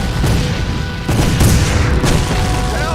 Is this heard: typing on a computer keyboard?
no